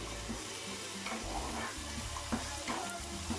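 Oil and a little butter sizzle in a pan while fish is being prepared for a Christmas meal, a steady broadband frying hiss with faint clinks of utensils and stirring throughout.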